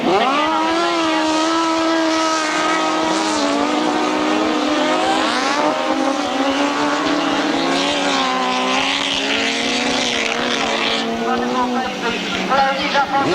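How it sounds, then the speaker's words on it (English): Sidecar outfits race on a grasstrack at the 1992 Collier Street meeting, their engines roaring and revving continuously with rising and falling pitch under steady commentary. "brilliant sidecar racing for these two outfits"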